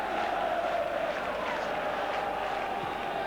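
A football crowd at White Hart Lane roars steadily in acclaim after a Tottenham goal scored by Glenn Hoddle in a 4-1 match against Newcastle United, a dense, sustained cheer filling the whole stretch.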